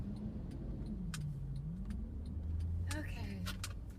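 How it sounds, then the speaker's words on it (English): Big garbage trucks on a residential street, heard from inside a car as a steady low engine rumble with a rising whine near the end, brief clicks and clatter, and a person talking. "Oh, and here's these big old garbage trucks."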